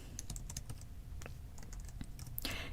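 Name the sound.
computer keyboard keys pressed to play a game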